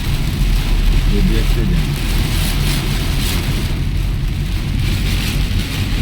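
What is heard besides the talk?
heavy torrential rain in Islamabad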